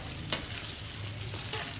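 Paneer cubes fry in oil in a pan over a medium flame, giving a steady soft sizzle with faint clicks and a light stirring scrape, quiet and unbroken.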